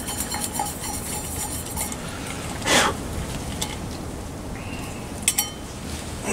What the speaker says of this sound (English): Clean out my pan a little bit.